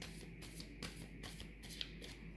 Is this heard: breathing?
no